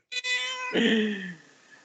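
A cat's meow, one clear drawn-out call that bends downward in pitch partway through, close and fairly loud, heard alone in a small, cluttered home office.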